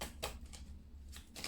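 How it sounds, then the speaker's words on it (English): A deck of tarot cards shuffled by hand, soft papery riffles and slaps coming in a few short bursts, close and fairly quiet, with no talking. "Now, I shuffle this deck all the time."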